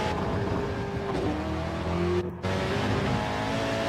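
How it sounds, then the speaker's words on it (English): Race car engine in Gran Turismo 7 revving hard through repeated downshifts, a loud sustained engine drone with rising and falling pitch and a brief dip in the middle, no talking. "See how he's massively abusing that downshifting, isn't he?"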